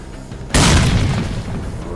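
A grenade explodes in S.T.A.L.K.E.R.: Call of Pripyat, a sudden loud boom after a quiet half second that rolls on with a long, heavy rumbling tail.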